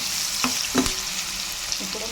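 Onions sizzle in a pan with salt added, a steady bright frying hiss broken by a few soft stirring clinks, close and moderately loud with no talking.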